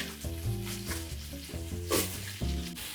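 Onions, garlic and meat sizzle and fry in a pan, a steady loud crackle that swells as the food is stirred, with a musical backing track playing throughout.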